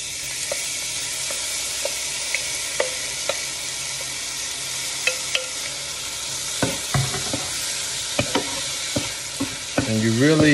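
Razor clams fry with black pepper in a hot pan, giving a steady close sizzle with scattered clicks and scrapes from stirring that grow busier toward the end.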